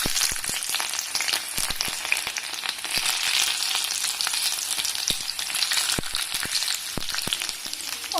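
Garlic sizzles steadily in heated mustard oil, a loud continuous frying hiss with scattered crackles and pops throughout and no voices.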